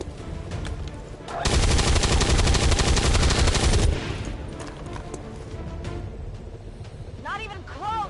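Sustained loud burst of automatic gunfire in the video game XCOM 2, about two and a half seconds of dense rapid shots, then quieter battle noise with scattered sounds and a brief warbling effect near the end.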